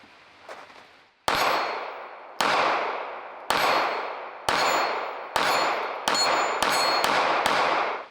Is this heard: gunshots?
yes